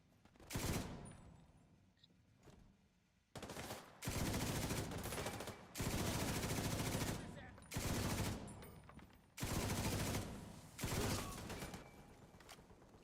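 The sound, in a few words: machine gun fire in the video game The Division 2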